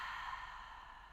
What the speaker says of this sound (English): release the breath out through the mouth on the exhale